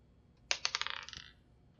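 Infinity dice tumbling across a hard surface in a burst of quick clattering rattles that fade out over about a second.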